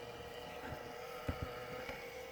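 A hobby battery charger's dirty cooling fan whirs steadily with a constant tonal hum over airy noise, broken by a few soft clicks and knocks.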